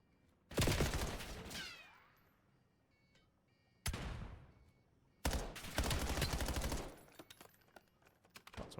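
Video game gunfire in Call of Duty during a competitive match: bursts of rapid automatic shots in three loud clusters separated by pauses, with scattered single shots trailing at the end.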